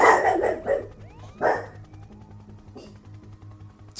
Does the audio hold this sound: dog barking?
yes